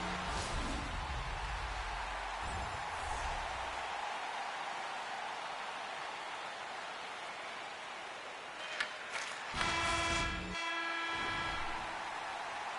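An arena horn blares to end a period in the NHL 26 hockey video game. A short, loud, tonal blast sounds near the end, following a long stretch of steady crowd wash.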